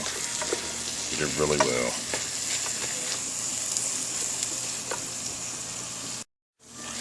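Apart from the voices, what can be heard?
frying corn sizzling in a pan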